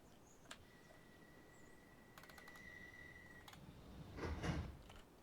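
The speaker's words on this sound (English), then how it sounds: "Let's close the doors again." Bakerloo Line train doors close in Virtual Underground, made in Unity. A faint warning tone and soft clicks lead into a brief sliding rumble that swells and settles. The whole sequence is quiet, with no voices.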